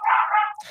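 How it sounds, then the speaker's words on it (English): A dog lets out a single loud, drawn-out bark-yip, close and bright, that fades into a brief whimpering tail. "is that the crazy dog? That's my crazy dog."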